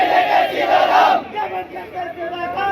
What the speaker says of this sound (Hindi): आप देख रहे हैं हमारे पीछे ये भीड़ लगी हुई है